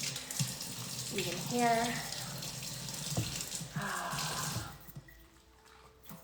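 Water runs steadily from a shower while skin is rinsed under it, a close splashing hiss that fades out near the end, with a person speaking briefly over it.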